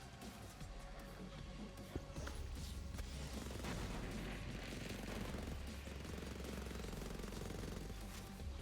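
Rapid, sustained automatic gunfire from a goofy-looking gun in a video game, a dense continuous rattle running the whole stretch with a brief boom near the start.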